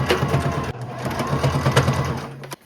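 Sewing machine top stitching along a dart on a homemade skort, a loud close continuous motor whir with rapid needle rattle, a brief pause early on and a stop just before the end.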